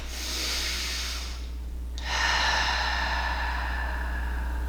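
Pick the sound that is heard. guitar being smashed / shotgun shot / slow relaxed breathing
slow relaxed breathing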